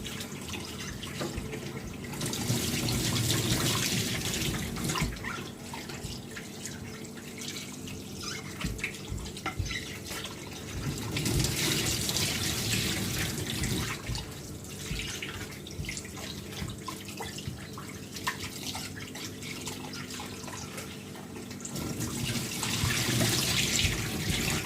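Kitchen tap running over raw skinless chicken being cleaned, a steady splashing stream with drips that surges louder in several waves as the meat is moved under the flow, no talking.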